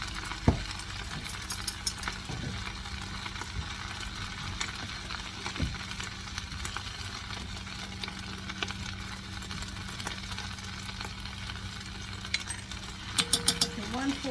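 Spices with salt and smoked paprika sizzle steadily in a pan while a spoon stirs them, giving a constant frying hiss broken by occasional clinks and scrapes.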